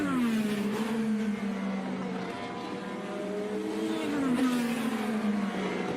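IndyCar race cars at speed during qualifying on the Road America circuit, engines screaming with a steady high whine and downward pitch sweeps as cars pass, loud and continuous without talk.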